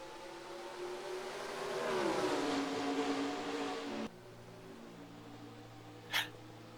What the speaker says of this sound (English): Dupain steps on the gas, and we're green flag racing in the Oreo 300 at Rockingham